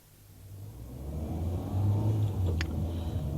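A car engine running and revving as it pulls away in a library car park, a steady low rumble that builds from quiet to fuller, with a brief higher squeak partway through.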